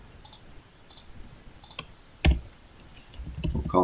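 Computer mouse clicks during CAD modelling work, a handful of sharp, close, isolated clicks in quick irregular succession, ending with a faint rustle.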